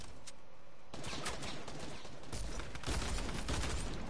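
Video game gunfire from teammates with pistols, a dense, continuous barrage of shots that grows louder toward the end, with no speech over it.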